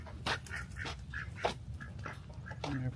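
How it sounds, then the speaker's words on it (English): An Indian runner duck gives a series of short, nasal quacks at an uneven rhythm, fairly close, over a busy low rumble of outdoor background noise. "Indian runner duck here."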